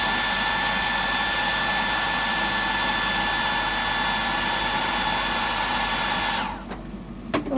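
A hair dryer blows steadily and loudly, drying black paint during pattern painting, then cuts off near the end, leaving quiet room noise.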